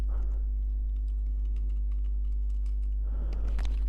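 Keys tapped on a computer keyboard over a steady low hum: a quick burst of typing at the start, a quieter sparse patter of strokes, then another flurry near the end.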